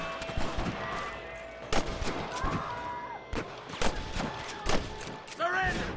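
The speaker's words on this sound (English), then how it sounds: "let the shooting begin" Sharp gunshots crack out one after another in the video game Red Dead Redemption, a scattered volley of loud separate bangs mixed with shouting voices and game sounds.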